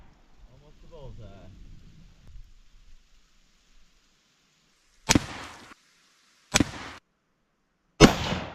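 Three loud, sharp gunshots ring out during target practice in a dirt pit, spaced about a second and a half apart with brief echoing tails, following quiet rustling and faint voices at the start.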